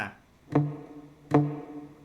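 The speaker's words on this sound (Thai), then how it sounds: "ดีดหนึ่งครั้งโดยใช้เทคนิคการอุดสายนะครับ" A palm-muted acoustic guitar note, fifth string at the fifth fret, is plucked twice; each short, dull thump dies away quickly, close and alone.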